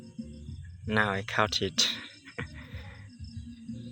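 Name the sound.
brown cricket chirping after being caught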